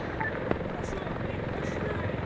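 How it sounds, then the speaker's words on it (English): A helicopter in the Arma 3 video game gives a steady, dense rotor drone that holds throughout, with voices speaking faintly under it. "Вертолет! 600 метров!"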